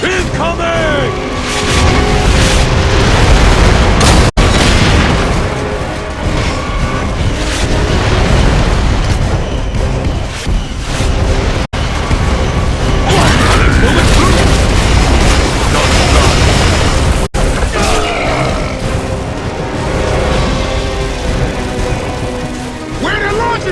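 Mortar shells burst in Gears of War: Judgment as heavy, booming blasts over a dense, continuous battle din, with loud rumbling impacts and crashing debris while soldiers shout under the noise.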